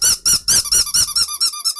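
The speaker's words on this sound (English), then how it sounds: "there's this little ball. It's called an interactive dog toy" An interactive dog toy ball lets out a quick run of about a dozen loud, high squeaks in a steady bouncing rhythm, close and alone.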